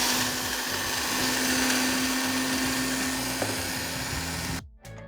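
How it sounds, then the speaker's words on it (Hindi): An electric grinder whirs steadily at full speed, pulverizing Bihari kebab masala spices: roasted chickpeas, red chilli powder and whole coriander. The loud, continuous motor drone stops abruptly near the end. "ये हमारा बिहारी कबाब मसाला, इसको थोड़ा सा पीसना है।"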